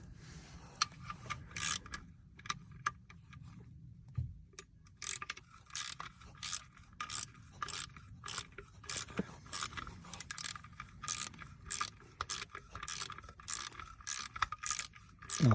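Ratchet tightening bolts while refitting the alternator on a Peugeot 308 1.6 HDi: bursts of quick, close metallic ratchet clicks with brief pauses and light tool clatter between them.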